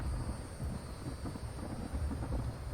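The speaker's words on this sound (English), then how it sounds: "It stops raining and then you hear more thunder and lightning right after that." Low, continuous rumble of thunder from a thunderstorm in the video game The Infected, a steady deep roll with no distinct crack, moderately loud and heard alone.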